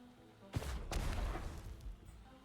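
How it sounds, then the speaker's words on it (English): The scrap launcher in Risk of Rain 2, a rocket-style weapon, fires two quick booming blasts, and a rumbling tail fades under them. "I know the scrap launcher was changed from more of a grenade launcher to a more rocket launcher type thing"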